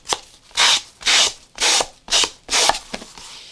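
A paper edge rubbed with sandpaper gives five or six close, gritty scratching strokes in an even back-and-forth rhythm, each harsh and loud, with faint light taps between them.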